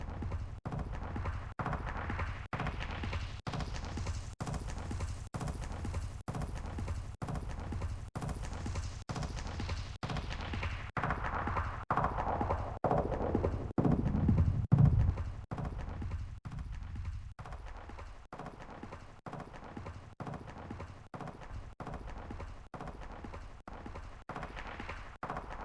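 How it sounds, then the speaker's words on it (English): Rapid, evenly spaced footsteps from the Warzone 2.0 video game, a steady run of sharp footfalls whose tone sweeps brighter and then duller as an equalizer shifts, with no talking. "That's what footsteps sound like."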